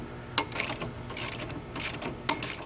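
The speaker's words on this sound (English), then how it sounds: "An extended ratchet or breaker bar will be necessary here" Ratchet clicks on a nut on a 2011-2019 Ford Explorer 3.5L engine, a few short bursts of rapid metallic clicking close by, separated by brief pauses.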